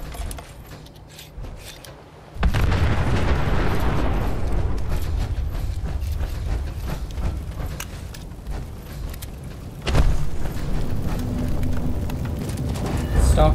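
A heavy blast goes off in Fallout 76, a sudden loud boom that settles into a sustained rumbling roar, with a second strong burst near the end. Game sounds and voices run underneath.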